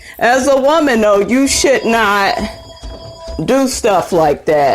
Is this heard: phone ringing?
yes